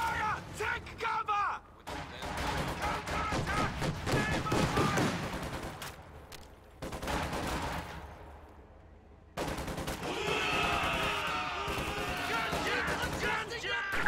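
Gunfire in a World War II video game battle: rapid fusillades of rifle and machine-gun shots crack in loud bursts, broken by short pauses, with voices calling out between the volleys.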